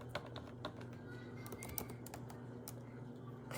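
Fingers tap steadily on a computer keyboard in a quiet room. Irregular clicks come in short bursts over a constant low electrical hum, with no voices.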